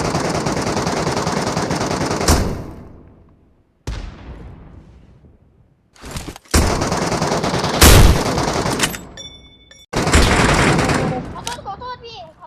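Loud, sustained automatic gunfire from PUBG Mobile's Metro Royale mode, long continuous bursts broken by short gaps and a decaying echo, close and dominant.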